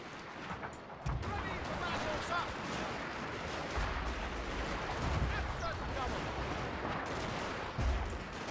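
Royal Marines volleying in Fall of the Samurai, a continuous dense crackle of rifle fire with heavier booms at intervals, loud and sustained across a distant battlefield roar, with a voice talking over it.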